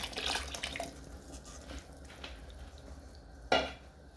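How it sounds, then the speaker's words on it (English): Stock is poured into a pot of fresh masavu beans and stirred, a faint liquid splash and trickle followed by soft stirring and a brief louder splash near the end, with no talk. "To this the stock, and then I'll mix."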